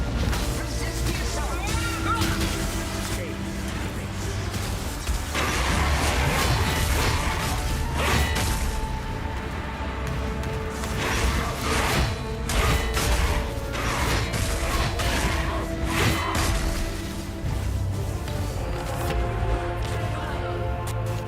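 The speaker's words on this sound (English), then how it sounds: "let's take a 30 seconds break and enjoy this Uber Elders fight" Uber Elder boss fight in Path of Exile with a Herald of Thunder autobomber build, a dense constant wash of crashing, whooshing and thumping spell effects and mechanical clanks layered with sustained low tones, loud throughout.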